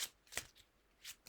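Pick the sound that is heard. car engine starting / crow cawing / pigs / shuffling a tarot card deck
shuffling a tarot card deck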